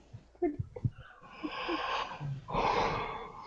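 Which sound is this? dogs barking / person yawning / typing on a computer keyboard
person yawning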